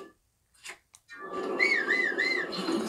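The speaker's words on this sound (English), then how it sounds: "Stop whistling." Someone whistles a wavering, looping melody close to the mic for a couple of seconds, following a few brief soft knocks, with no talking over it.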